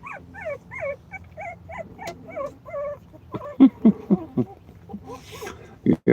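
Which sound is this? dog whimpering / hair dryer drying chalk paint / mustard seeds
dog whimpering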